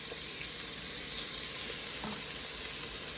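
Butter melts and sizzles in a pan as the start of a German army-style goulash, a steady soft frying hiss with faint crackles throughout.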